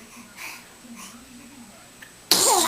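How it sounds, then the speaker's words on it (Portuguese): A small child sneezes once, a sharp loud burst near the end, after a stretch of quiet adult baby talk. "É muito espirro, minha mamãe."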